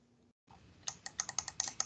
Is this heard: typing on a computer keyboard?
yes